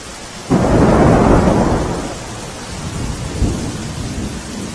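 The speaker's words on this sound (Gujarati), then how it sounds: "ગ્રામ્ય વિસ્તારોમાં પણ ધોધમાર વરસાદ પડી રહ્યો છે" A loud crack and rolling rumble of thunder over heavy rain in Visavadar, Junagadh, Gujarat, fading out, then a second softer rumble as the downpour keeps hissing steadily.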